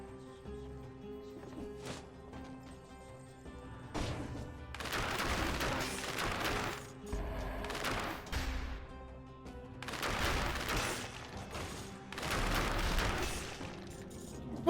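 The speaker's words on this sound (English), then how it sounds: "I heard the cannonball and I was like, why is there a pirate captain here?" Cannonball fire in the video game Dead Cells sounds as several bursts of heavy booms and crashing impacts, clustered in loud stretches over a quieter background music bed.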